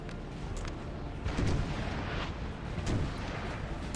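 Artillery fire in a Napoleon: Total War battle at Leipzig, with dense, rumbling cannon booms rolling continuously, plus heavier blasts near 1.4 and 2.9 seconds over steady battlefield noise.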